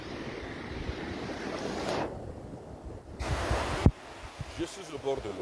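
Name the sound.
waves at the water's edge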